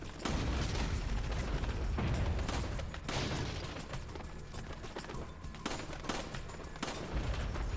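Rapid gunfire in a Resident Evil 4 shooting-range minigame, with dense repeated shots and bursts packed across the whole stretch, loud and close, with no talk over it.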